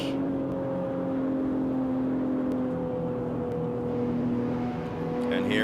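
Engine of a BMW driven along Manhattan's FDR Drive in a video game, a steady hum with two sustained tonal lines and a constant low rumble throughout, no speech over it.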